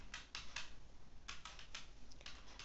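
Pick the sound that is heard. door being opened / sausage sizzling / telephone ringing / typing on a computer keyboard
typing on a computer keyboard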